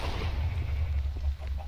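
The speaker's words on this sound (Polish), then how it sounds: "Dobra, wybuch." A creeper explodes in Minecraft, a loud, deep booming rumble that fills the whole short stretch without any pause or talking.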